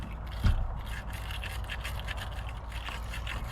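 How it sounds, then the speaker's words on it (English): Corroded truck battery terminals scrubbed clean, with one sharp knock near the start followed by soft, fast brushing and scraping strokes that continue close by for a few seconds. "I'm just gonna clean these terminals up"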